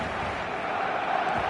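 A stadium crowd in the football game eFootball roars in a broad, sustained wash of cheering, steady throughout and mid-distance, with no clear individual voices.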